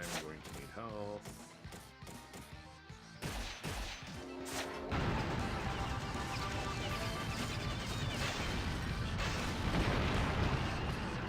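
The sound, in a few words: gunfire overhead in video game Ninja Gaiden Black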